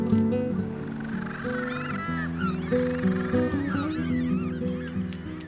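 Seabirds in a crowded nesting colony call over one another, a dense, continuous clamor of harsh, honking cries with rising and falling squawks layered close together.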